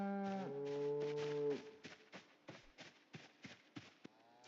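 Cattle mooing in a field, a long harmonic moo of cows and calves lasting over a second, followed by a series of short, regularly spaced thumps or hoof-like clops.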